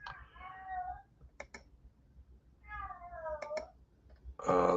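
A cat gives two drawn-out meows a couple of seconds apart, each with sharp clicks nearby, then a louder sound starts at the end.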